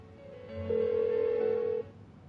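An unanswered phone call in the video game Persona 4 Golden gives a single sustained electronic ring tone, clear and fairly quiet, lasting about a second before cutting off into low background hum.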